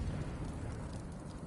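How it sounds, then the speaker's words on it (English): British cannon bombardment in Rise of the Ronin: a faint, deep rumbling blast that rolls on for a moment without sharp attacks. "These British cannons pack quite a punch"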